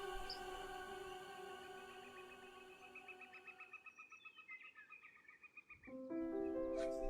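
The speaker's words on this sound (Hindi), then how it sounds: "आज भी जब पहाड़ों में काफल पकते हैं तो एक पक्षी बहुत ही करुण भाव से गाता है" A bird sings in the mountains where kafal fruit ripens, a drawn-out plaintive call with sustained tones over faint background, a warbling passage, then a louder closing phrase.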